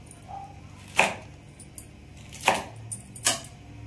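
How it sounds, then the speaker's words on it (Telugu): Okra pods sliced with a knife on a board in a home kitchen, a few distinct sharp cuts spaced about a second apart, close and fairly quiet. "ఈ బెండకాయలు కట్ చేసుకునేటప్పుడు కూడా చూసుకొని కట్ చేసుకోవాలా."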